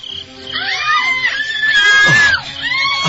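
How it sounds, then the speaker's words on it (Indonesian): Shrill, wavering screams of girls rise and overlap at close range, loud and echoing, over a low rumbling background bed. "Aku mendengar jeritan-jeritan gadis-gadis itu."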